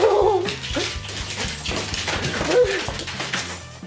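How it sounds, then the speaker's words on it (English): A rescue dog whimpers and yips eagerly over a toy, close and fairly loud, a run of short whines and little yelps with voices talking around it. "We went and adopted her from the Humane Society, so she's a rescue dog, but she's super sweet."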